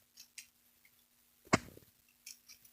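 A dry chain on a Husqvarna 350 chainsaw squeaks as it is moved by hand, giving a few short, faint squeaks and ticks with one louder scrape in the middle, all at close range.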